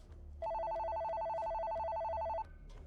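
A telephone rings in one steady electronic trill lasting about two seconds, loud and clear over a faint background hum, with no voices.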